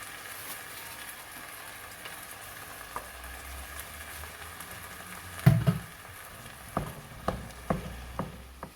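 Ground meat browning in a pan with softened onions for bolognese gives a quiet, steady sizzle, joined in the last few seconds by several sharp knocks and clatters from stirring.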